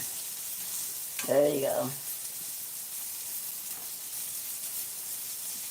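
Mushrooms fry in hot oil while flour is kept aside for gravy, giving a steady close sizzle and crackle throughout, and someone speaks briefly over it.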